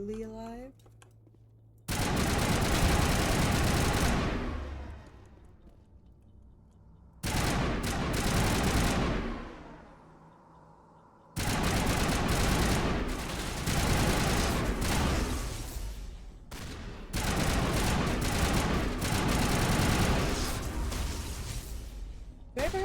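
Sustained bursts of rapid automatic gunfire in the Mass Effect video game, loud and close, coming in four long volleys separated by brief quieter gaps.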